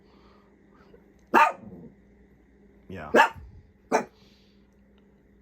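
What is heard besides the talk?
dog barking at the stopped furnace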